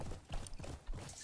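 A magical horse gallops in a video game, its hooves giving a faint, quick clip-clop of three or four soft beats over a low mechanical rumble.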